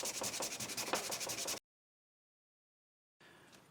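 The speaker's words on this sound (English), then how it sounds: "Phil's going to start to sand this little piece of thing really, really fast" A small piece being sanded very fast by hand, a rapid rhythmic scratchy rubbing that runs briskly, cuts to silence, then resumes faintly.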